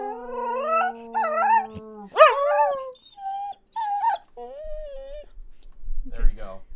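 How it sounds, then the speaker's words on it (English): An Australian Shepherd howls like a husky, a long series of rising and falling howls and yips with whimpering tones, close and clear, as people talk briefly in the background near the end. "she's an Australian Shepherd, but she howls like a husky"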